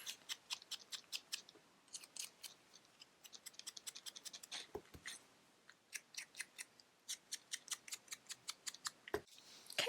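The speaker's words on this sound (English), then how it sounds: "Let's go ahead and cut our scarf out and our fall leaves." Scissors snip through paper while cutting out a scarf and fall leaves for a handmade card, a steady run of close, crisp cuts in quick rhythmic bursts with brief pauses.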